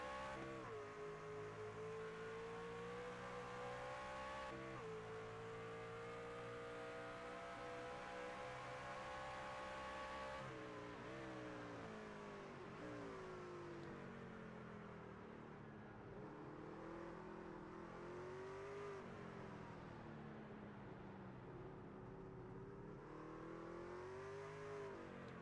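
Steady engine drone of a racing truck lapping the Mid Ohio racetrack from a nose camera, pitch rising and dropping through gear changes and corners, continuous and loud with no talk.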